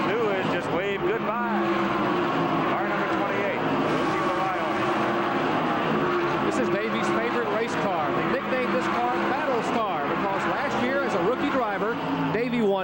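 NASCAR Winston Cup stock cars race and pass one another, a dense roar of engines with repeated swooping pitch sweeps as cars go by, continuous under a commentator's voice.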